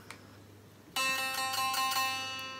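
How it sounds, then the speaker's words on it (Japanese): An unplugged Paul Reed Smith electric guitar with low string action, struck hard so its strings buzz against the frets, giving a sudden bright strum that rings and slowly decays after a faint tap. "結構こうやって押さえて弦が振動して他のフレットに当たっちゃってるんですよ。"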